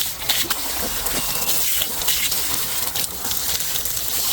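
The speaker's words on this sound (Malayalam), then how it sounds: "അപ്പോൾ ഇനി നമുക്കിത് നന്നായിട്ട് കഴുകി വൃത്തിയാക്കി എടുക്കാം." Running water pours steadily over a yam as it is washed clean, a loud continuous gush close by with no talking.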